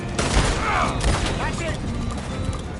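Gunfire in a PS4 shooter game: a dense, loud fusillade of rapid shots and booms running continuously under excited shouting voices.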